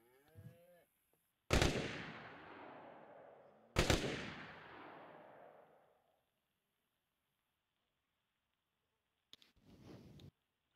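In the video game DayZ, two sharp, loud gunshots ring out a couple of seconds apart, each with a long decaying echo, followed by silence and a brief burst of noise.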